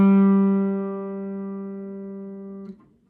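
Guitar tuning check, the open third string played against the fifth fret of the fourth string: a sustained, slowly decaying plucked tone with clean, steady harmonics, heard alone and ringing for about three seconds.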